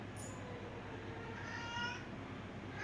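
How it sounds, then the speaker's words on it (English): A cat in heat meows faintly in the distance, drawn-out wavering yowls rising and falling over a low, steady background hum. "Gotta love it when a cat's in heat."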